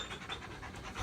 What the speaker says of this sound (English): See, even the dog is whining out my puns